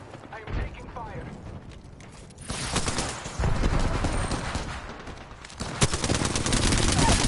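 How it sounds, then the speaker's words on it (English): Bursts of video-game gunfire and mechanical weapon clatter from Apex Legends, with rapid volleys rising to a sustained loud barrage, some voice chat faintly underneath. "I am taking fire."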